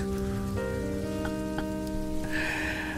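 Rain pours steadily in a continuous wash of patter, heard close under a layer of tonal hum and music, with no talk.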